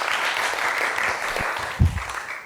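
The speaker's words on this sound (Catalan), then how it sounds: "La gent del públic m'aplaudeix a mi" A studio audience at a televised word-game show claps in a steady, moderately loud wash of applause, with a few louder individual claps near the end.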